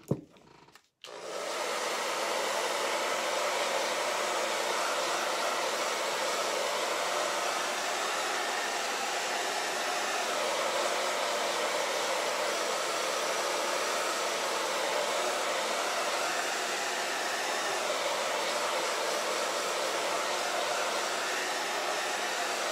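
A hair dryer blows on a freshly made craft piece, starting after a brief click and then roaring as a loud, steady broadband whoosh that holds unchanged for over twenty seconds, with no voices.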